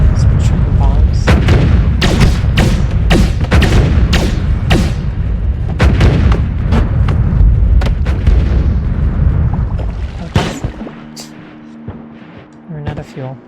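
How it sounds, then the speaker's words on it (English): Bombs in the game Noita go off in a rapid string of loud, close booms and cracks for about ten seconds, then the blasts stop and a quieter droning tail remains. "Some triple bombs."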